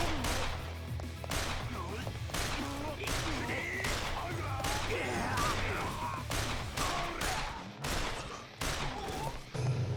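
Video game gunfire in Yakuza Kiwami 2: a rapid series of sharp, loud shots bursting at irregular intervals over a steady background of game music and effects, with a voice talking through it.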